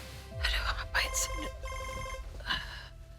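A telephone rings at night with repeated electronic ringtone bursts, close and fairly quiet, interspersed with a gasp and hushed voices.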